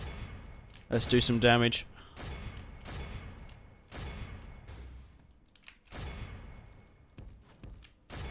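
Massed musket and handgun volleys crackle through a Medieval II Total War: Stainless Steel battle, a dense burst of shots followed by scattered bangs and booms, with someone talking over the fighting.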